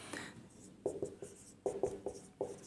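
Chalk or a marker scratching out a word on a classroom board in short strokes: a few quick scrapes, a pause, then several more bursts of scratchy writing, close and fairly quiet.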